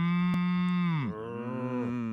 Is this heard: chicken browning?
no